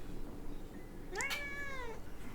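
A cat gives a single drawn-out meow that rises and falls, clear but not loud, over a steady background hiss, with no voices.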